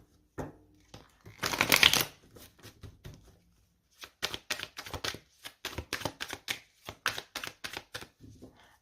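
Tarot cards riffle in a dense, crisp burst of shuffling, then a long series of separate sharp snaps and slaps as cards are set down one by one on a table, close and clear with no talk.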